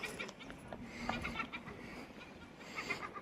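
Egyptian goose, called a duck, calling outdoors by the Thames at Henley-on-Thames with its chick nearby, giving soft clucking honks amid ambient outdoor noise, moderately faint.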